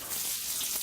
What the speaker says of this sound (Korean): 무더위 속에서 무사히 훈련을 마친 말에게 시원한 목욕 시간이 주어졌습니다.